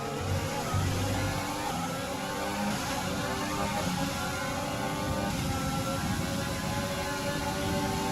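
F1 race cars in the F1 2020 video game on track, a steady continuous engine roar with shifting whine throughout, layered under faint background voice.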